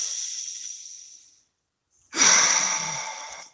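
Deep breath during a guided prayer: a long airy exhale fades out, a brief silence follows, then a sharp, close inhale rises and trails off.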